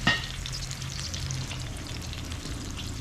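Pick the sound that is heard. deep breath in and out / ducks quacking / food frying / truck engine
food frying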